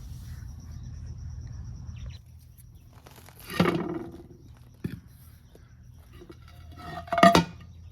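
Terracotta pot set down under another pot in a lava rock garden, a few scraping, knocking clay-on-clay contacts separated by quiet, close with light outdoor background hum.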